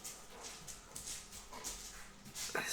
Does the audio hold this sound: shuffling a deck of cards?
no